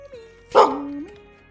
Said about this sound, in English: that bark is so fucking loud in my ears today